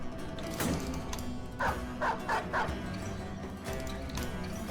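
A dog barks in a video game, a quick run of four short yips near the middle, set against a steady backdrop of game sound and music.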